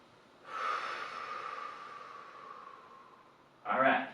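Two big, deep breaths taken while stretching the hips: a long, steady airy inhale-exhale lasting about three seconds, followed by the start of another sharp breath, close and alone with no talk.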